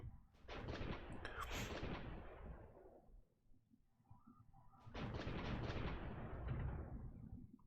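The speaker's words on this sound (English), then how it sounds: "I want to tell all my Panzer pt-2000s them all to bombard the capital" Artillery barrages from Panzer PT-2000 self-propelled guns shelling a capital in the strategy game Supreme Ruler Ultimate, with two long, rumbling volleys of booming blasts and rolling echoes separated by a brief lull, loud and without voices.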